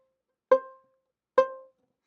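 Viola playing a C note on the A string, two short plucked or bowed notes spaced apart, each a clear tone that rings briefly before fading into silence.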